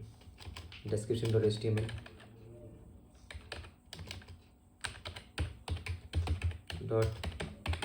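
Keys clatter on a computer keyboard as a file name is typed in a save dialog, bursts of quick close taps alternating with someone speaking over them.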